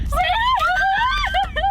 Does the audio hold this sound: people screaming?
yes